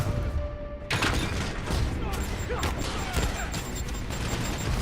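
Video game chain gun fire rattles out in dense, continuous bursts with sharp impacts and thuds layered throughout, loud and close, with a voice talking over the action.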